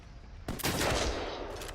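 Gunfire in the shooter game Medal of Honor Warfighter, a sudden loud burst of rapid shots that keeps going as sustained crackling fire close by, with nobody talking.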